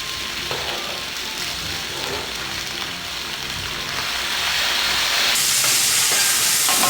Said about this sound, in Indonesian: Sekarang kita masukin cabenya.